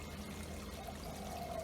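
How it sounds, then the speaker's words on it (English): Water flushing out of an aquaponics grow bed and flowing back into the fish tank, a steady continuous pouring and trickling wash heard close by with no voices. "The grow bed is flushing, and the water, clean water, is coming back to the fish."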